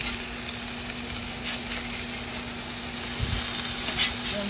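Snapper fillets fry in a pan with a soft, even sizzle that carries on steadily throughout, with a few faint clicks and a low hum behind it.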